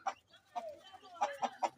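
Ayam Cemani chickens clucking in a run of short, close calls spaced unevenly across the moment, with a few louder bursts near the end.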